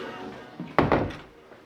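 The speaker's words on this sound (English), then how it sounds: "I'm gonna close this door" A door in a soundproofed stud-wall room swings shut with a single solid thunk and a short second knock, heard close and fairly loud after a quiet moment, then fading to stillness.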